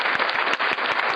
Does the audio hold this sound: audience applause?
yes